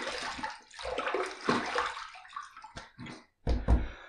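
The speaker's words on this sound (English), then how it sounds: "let me splash some water on my face" Water splashed onto a face in a bathroom sink during a wet shave with a titanium razor, several close, irregular splashes and drips, with a brief pause before a final loud splash.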